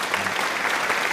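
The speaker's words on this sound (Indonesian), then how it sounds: "kita beri tepuk tangan" A short burst of steady clapping from a group in an architecture lecture, fairly loud and even with no voices.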